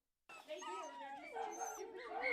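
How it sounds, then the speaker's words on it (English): Dogs in the kennels of an animal rescue shelter, seniors to puppies, give off a steady run of barks, whines and yips that fill the whole clip at close range. "Inside Animal Rescue Fresno, dozens of dogs fill the kennels from seniors to puppies."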